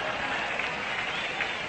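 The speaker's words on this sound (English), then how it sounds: "as each man comes up to the plate for the first time, he's announced. And, of course, the applause follows through" Steady applause from the crowd at Sportsman's Park, St. Louis, during Game 2 of the 1942 World Series as a batter steps up to the plate. The clapping sounds dense, even and distant, filling the whole moment without a break.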